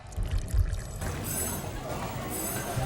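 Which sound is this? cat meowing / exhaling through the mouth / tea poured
tea poured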